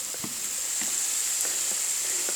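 Green onion frying in a pan with bacon for cream pasta, a steady bright sizzle with several light stirring taps, close by and free of talk.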